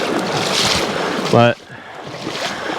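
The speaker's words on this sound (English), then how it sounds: "the water's moving pretty fast still" A fast river current rushes around a fishing boat, a steady broadband wash throughout, briefly interrupted by a single spoken word.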